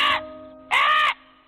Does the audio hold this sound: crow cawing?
yes